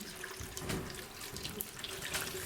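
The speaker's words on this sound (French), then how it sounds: "tu vas me faire un petit filet d'eau" A thin, steady stream of water pours from a tap with its flow turned down, a continuous soft splashing trickle that runs throughout at moderate closeness.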